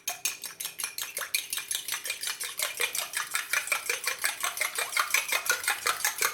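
An egg is beaten into dough for Tunisian grewiches, with a fast, regular clatter of a utensil against a bowl, roughly three strokes a second, close and steady, no speech.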